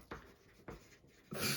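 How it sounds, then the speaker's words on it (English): Pen scratching across paper in three short bursts, the last a louder, longer stroke, close and quiet with no talk. "I'm going to write that down."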